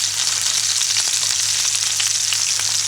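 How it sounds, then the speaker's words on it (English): Pork fillet sears in a hot pan, giving a loud, continuous close-up sizzle with crackling spits throughout and no speech. "the pork is sealed straight away"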